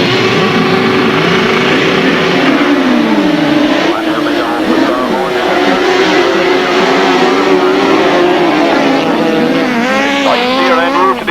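1000cc grasstrack sidecar outfits roar off the start line together, a loud dense wall of revving engines with pitch sweeps as they accelerate and change gear, continuous throughout, with a commentator talking over the racing.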